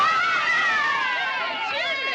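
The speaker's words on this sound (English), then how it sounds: "Do you hear the cheering?" Children cheer and shout together in a steady, high, bright roar that holds loud and unbroken for a couple of seconds, with individual voices rising and falling within the crowd.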